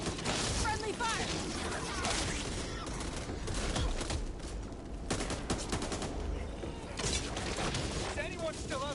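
Dense, continuous gunfire in the zombie shooter Back 4 Blood, rapid overlapping shots and clattering mechanisms mixed with shouting voices and chaotic combat noise throughout.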